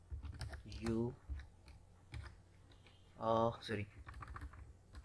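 Message typed on a computer keyboard: rapid, uneven close key clicks run throughout, interrupted by short bursts of someone speaking.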